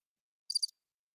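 Cricket chirp sound effect, a single short burst of a few rapid high chirps, isolated in silence.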